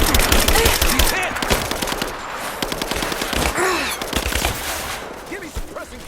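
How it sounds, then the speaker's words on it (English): Rapid automatic gunfire from Rise of the Tomb Raider rattles in dense, loud bursts, with shots overlapping as a voice shouts faintly beneath the barrage. "Give me suppressing fire now!"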